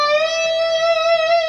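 Electric guitar playing a single sustained note on the B string at the 15th fret, bent up a whole tone, ringing steadily and loud with rich harmonics for about a second and a half, alone.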